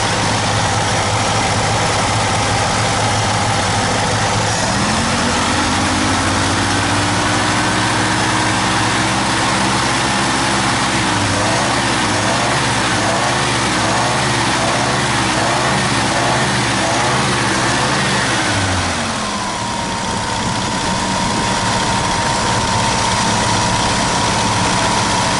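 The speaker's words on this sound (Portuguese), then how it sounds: "Já ligamos o motor." A 1978 Chevrolet Opala engine idles loudly and steadily with a deep rumble; the pitch lifts slightly and wavers for a stretch before dropping back to a lower idle. No one speaks.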